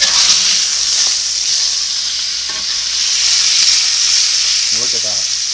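A ribeye steak sears in a pan with a loud, continuous sizzling hiss up close, and a few faint clicks and scrapes appear near the end.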